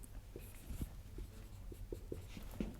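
Chalk or marker strokes on a board during a French mathematics lecture on sequences and series of functions, a run of short scratchy taps and strokes at an uneven rhythm, fairly close over a low room hum, with no talking.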